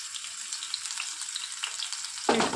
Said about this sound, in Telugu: ఇప్పుడు 1 నిమిషం పాటు వీటిని ఫ్రై చేసుకోవాలి